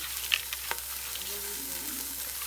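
Pot roast ingredients with cola being stirred in a pot, a soft wet sizzle with a few light utensil clicks against the pot.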